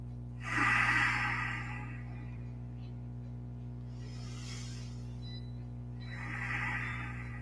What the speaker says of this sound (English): A few more big breaths.